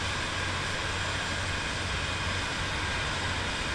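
A Cirrus Vision Jet G2 taxis in Microsoft Flight Simulator 2024. Its jet engine gives a steady, dense, broadband roar that holds at the same level throughout, with no talking.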